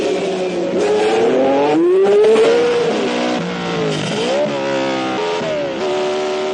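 A red Ferrari race car laps the Monte Carlo street circuit in 1966, its engine loud and close with a rising, falling whine as it shifts and revs, a slower car nearby, no voices over it.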